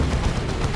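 Plasma cannon fire in the Dawn of War 2 strategy game: a brief, dense burst of rough blasting over dull low rumble with no gap, loud and close, lasting under a second without talk.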